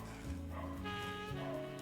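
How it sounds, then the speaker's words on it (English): Dogs bark and yip somewhere off in the background, faint and distant, with a few short whimpering calls over a steady low hum and no talking. "them dogs are ghetto. I hope y'all can't hear them."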